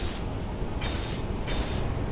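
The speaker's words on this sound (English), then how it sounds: "So we'll weld these bits up as well," Welding blocks together in the game Space Engineers: a steady hissing, spray-like whir with a mechanical ratcheting undertone runs throughout, swelling into three brighter hissing bursts at regular intervals.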